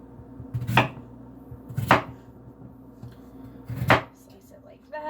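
A large kitchen knife slices through potatoes for homemade fries, giving three crisp, loud chops spaced about a second apart on a cutting board, with no talking.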